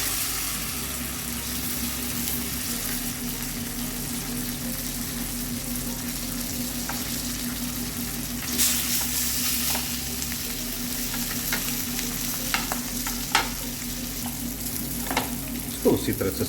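Fish grilling in butter in a pan sizzles with a steady, dense frying hiss, punctuated by occasional crackles and a few sharp clinks and stirring noises later on.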